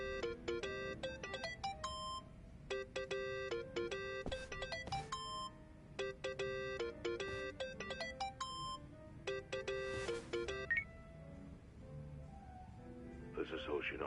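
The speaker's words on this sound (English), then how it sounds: "Think that's your phone, man." A mobile phone ringtone plays in the video game Yakuza: Like a Dragon, a steady melodic electronic tune repeating through the whole stretch at moderate level, with game voices speaking under and around it.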